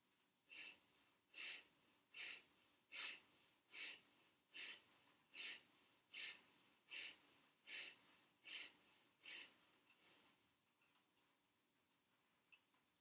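A yoga practitioner's rapid, forceful breaths pumping the belly: a steady train of about twelve sharp, puffing nasal exhalations at an even rhythm, close and clear, then a quiet pause.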